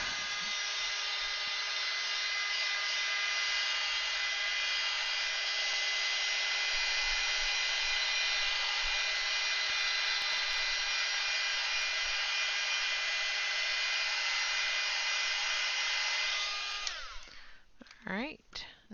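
A hair dryer blows steadily on freshly painted flowers, a loud even whine running for about seventeen seconds before it clicks off, followed by brief handling sounds.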